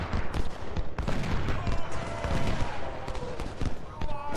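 Musket volleys crackle in Ultimate General: Civil War, a dense ongoing fusillade of overlapping shots with scattered sharp reports, steady and close throughout.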